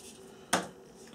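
A fine sanding edge scrapes once across the curved leading edge of a model aircraft's aerofoil, a single short, bright rasp in an otherwise quiet room.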